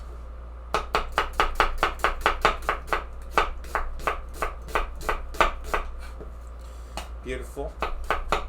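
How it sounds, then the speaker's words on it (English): A knife chops onions into julienne for French onion soup in fast, crisp, even strokes against a cutting board, close and steady, with a short pause near the end and a brief spoken word. "what we're doing over here is just cutting all these onions into our nice julienne"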